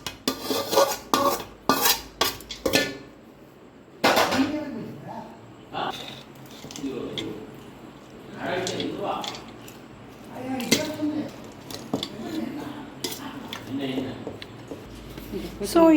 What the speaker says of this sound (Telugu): ఈ అన్నంలో అలా పులుసు వేసేస్తే బాగా మిక్స్ చేసుకుంటే మన పులుసు అన్నం రెడీ అయిపోతుంది